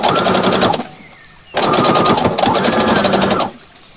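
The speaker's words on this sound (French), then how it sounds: "j'ai fini de coudre" Sewing machine stitching the seam of a blue party dress, two loud bursts of rapid, rattling needle strokes separated by a short quiet pause, with a softer stop at the end.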